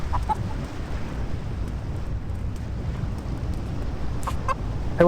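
A few scattered chicken clucks in the video game Blade and Sorcery, set over a steady bed of outdoor wind and rain ambience, with the clucks bunched near the start and again toward the end.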